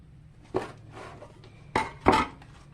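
Cut pieces of homemade cinnamon roll dough set into a Pyrex glass dish, giving several soft clinks and knocks against the glass, one early and two louder ones close together near the end, with no talk.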